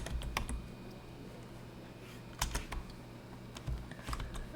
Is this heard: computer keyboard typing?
yes